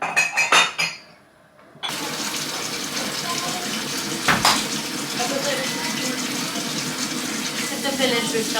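A tap runs in a kitchen, first with a few clattering knocks, then opening into a steady, fairly close stream of flowing water that continues to the end, with a brief bump partway through.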